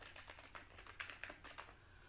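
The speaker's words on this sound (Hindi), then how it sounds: "तो अभी हम उर्दू टाइप करके देखते हैं कि क्या ये उर्दू टाइप करता है" Rapid clatter of keys on a computer keyboard while Urdu text is typed, a steady run of close, crisp clicks with a few sharper strokes, no voices.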